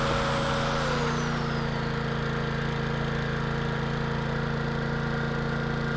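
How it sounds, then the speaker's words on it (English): An old, roughly 50-year-old generator runs aboard a sailing boat with a steady, loud droning hum and a constant mechanical throb that holds without a break throughout. "not a bad old generator,"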